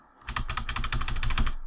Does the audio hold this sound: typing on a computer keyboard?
yes